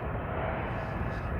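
Broadband engine roar from a United Boeing 777 airliner at London Heathrow, a short, steady, fairly loud jet rush with no voices over it.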